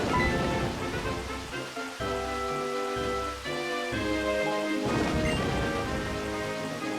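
A heavy rainstorm in the video game Pokémon White, a steady dense wash of rain playing under a sustained tonal music track, with no voices.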